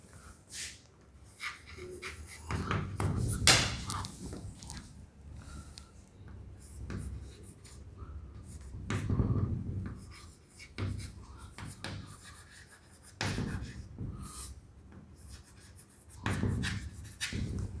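Chalk or marker strokes scratch across a classroom board as an organic chemistry reaction for malonic ester is written out, coming in short bursts separated by pauses, close and moderately loud, with no talking.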